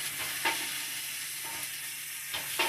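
Pre-cooked ham steaks sizzle on an Ozark Trail griddle in a steady, close hiss, with a few faint scrapes and clicks from a spatula and no talking.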